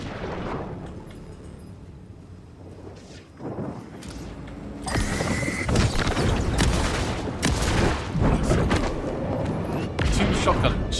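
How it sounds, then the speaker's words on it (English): Shotgun blasts and heavy combat noise in the video game Alan Wake II, with loud booming shots that grow denser and louder halfway through, close and continuous, with a voice talking over the fight. "Two shotgun shells and that wasn't enough"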